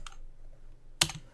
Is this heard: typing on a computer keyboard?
yes